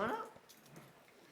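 Tiny, a small pet dog, gives a brief high whimper up close, then quieter whines under light background noise, with someone talking nearby.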